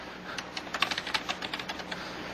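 A quick burst of computer keyboard typing, about a dozen light, close keystrokes as a name is entered, clicking briskly over a steady background hiss.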